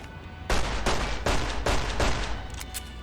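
Four loud, evenly spaced gunshots from a 5.56 pistol in the video game Fallout New Vegas, each a sharp blast with a ringing tail, followed by fainter game sounds.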